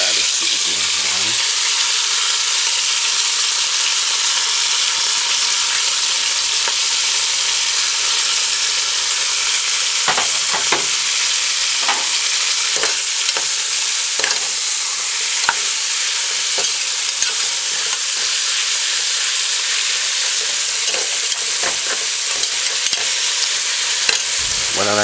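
Seasoned beef frying in a pan for a pot roast, a loud continuous hiss of sizzling fat with scattered pops and scraping taps, and no speech.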